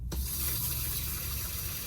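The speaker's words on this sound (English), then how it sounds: "I'm about to run the faucet for the first time in 6 months" A faucet fed by a tank pump runs for the first time in six months, starting with an abrupt splash that settles into a steady, loud rush of water over a low, constant hum.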